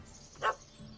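A single short dog bark in Witcher 3, fairly quiet and alone, over a faint steady game background.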